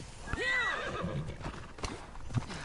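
A horse in Assassin's Creed Odyssey whinnies loudly with a rising and falling neigh, followed by a few hoof clops and snorts, close and clear.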